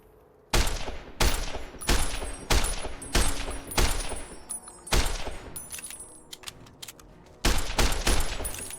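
Rapid gunfire from a rifle in Fallout: New Vegas with the Long 15 mod, a series of loud, sharp shots in bursts with short gaps between them, close and ringing, with no talking.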